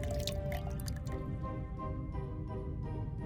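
Luminol solution drips onto a swab in the video game The Raven, soft wet drops and squishy liquid sounds over a steady game backdrop, moderately close.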